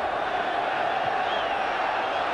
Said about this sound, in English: There's a lot of unrest in the crowd, which the police are doing their best to deal with.